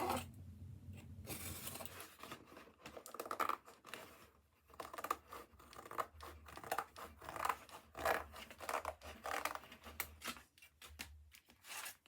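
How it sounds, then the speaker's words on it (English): Scissors cutting through canvas fabric for a handmade book cover, a close run of crisp snips and rustling cloth with short pauses between strokes. "So I am just going to cut the fabric out of this"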